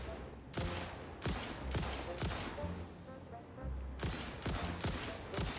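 Sniper rifle shots ring out in the video game Satisfactory, about eight sharp reports spaced roughly half a second to a second apart, loud and close, with a brief muttered voice between shots.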